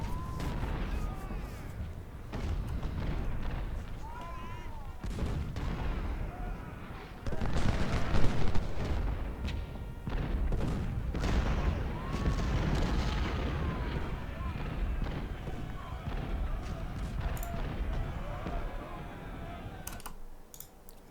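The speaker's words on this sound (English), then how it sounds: "Looks like they brought artillery to bear." Booming cannon and artillery volleys in a Civil War strategy battle around a Potomac fort, repeated heavy blasts over rumbling battle noise, with someone talking throughout and keyboard clicks.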